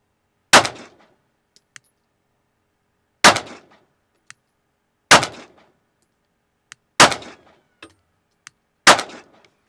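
Five sharp, loud pistol shots from a Glock 43X fitted with a Radian Ramjet compensator crack out one at a time, roughly two to three seconds apart, each with a short ringing decay and faint clicks between.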